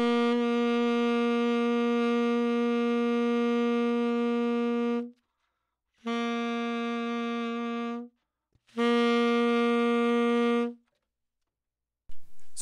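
A tenor saxophone plays the same sustained concert B flat with a longer overtone fingering three times, one long and two shorter, each separated by a brief silence, with a bright, full tone.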